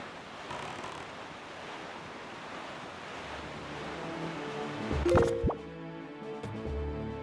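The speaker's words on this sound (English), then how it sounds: "the sounds of the ocean aren't, like, a terrible thing to listen to" Ocean surf washes steadily in the video game The Legend of Zelda: The Wind Waker, with a wet plop and splash late on, then soft tonal game effects over the continuing sea.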